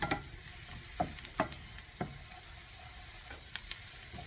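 Garlic frying in oil in a pan, a soft steady sizzle broken by scattered pops and light clicks of stirring.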